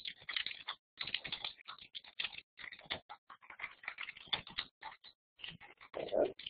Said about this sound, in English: just give me a quick second to just type something to Tina